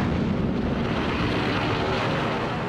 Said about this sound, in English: Planes from a massive armada surprise the U.S. Pacific Fleet at Pearl Harbor